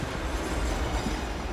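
Steady rumble of a moving train heading to Delhi, a dense continuous roar of wheels and carriage with no voices over it.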